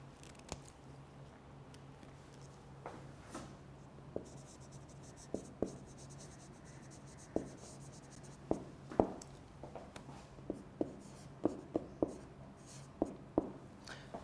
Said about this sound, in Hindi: मैं लिख भी देता हूँ.